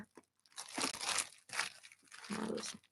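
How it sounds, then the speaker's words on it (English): Bubble wrap packaging lining an unboxed parcel, handled and crinkled up close: loud crackling, rustling bursts in several separate bouts with short quiet gaps between them. "Lined with more bubble wrap."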